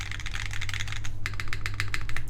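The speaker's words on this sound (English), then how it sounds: "I actually really like how the spacebar sounds on this carbon fiber." Rapid keystrokes ring out on a Mode Loop TKL mechanical keyboard with a carbon fiber plate and Obscura switches, close and clicky, steady through the stretch with no voices.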